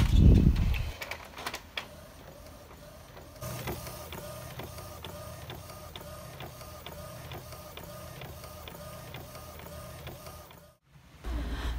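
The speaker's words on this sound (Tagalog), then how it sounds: "tapos ipiprint ko na siya" An inkjet-style home printer runs a print job of a refrigerator magnet souvenir layout, making steady mechanical whirring with a regular ticking of the print head passing back and forth, starting after some handling noise and ending in a brief feed clunk.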